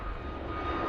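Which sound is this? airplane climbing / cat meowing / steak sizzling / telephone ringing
airplane climbing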